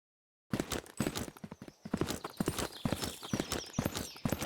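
Footsteps in the video game Zero Sievert, a rapid run of clopping steps that sound close and fairly loud, with no speech.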